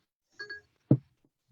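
A phone's Siri activation chime sounds as two quick, soft rising tones, followed by a short low thump and a faint tick, with silence around them.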